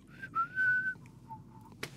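A person whistling a song tune, clear and close, one rising sustained phrase then a few lower notes, alone with no talking, ending in a short sharp click.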